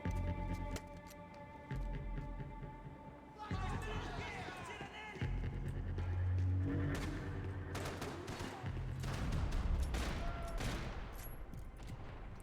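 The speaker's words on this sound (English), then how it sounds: "I'm gonna go ahead and try to skate a couple more guys with the sniper rifle" Sniper rifle gunfire from Max Payne 3, sharp cracks rising out of a busy game mix with a steady background hum, heavy rumble and other shooting layered underneath.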